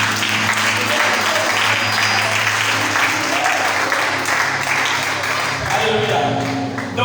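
Crowd applause fills a French gathering, loud and continuous clapping from a large audience throughout, with no pauses and no voices.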